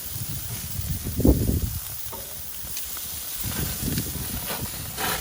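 Food sizzling steadily in a hot pan as pieces are flipped one by one, a continuous hiss with soft scraping and clinks from the turning, fairly close and with no talking.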